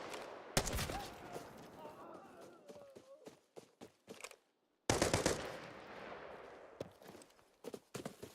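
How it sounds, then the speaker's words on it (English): Bursts of gunfire in the video game Arena Breakout Infinite, somewhat distant, with repeated rapid volleys, brief pauses and a short silence midway, plus scattered single shots and faint movement sounds. "Those guys are not shooting at me."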